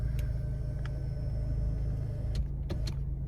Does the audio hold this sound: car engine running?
yes